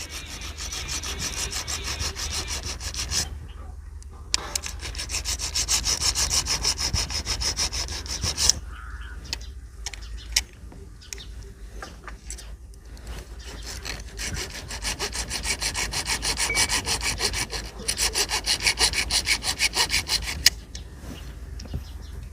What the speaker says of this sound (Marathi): ह्या पट्ट्या पण मित्रांनो आपण इथे घासून घेणार आहोत